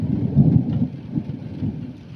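Deep rolling thunder from a lightning storm rumbles continuously and loudly, swelling early then easing into a sustained low growl with a faint hiss of rain beneath, no voices.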